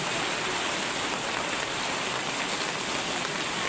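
Heavy rain pours in a dense, unbroken hiss, loud and even throughout with no voices.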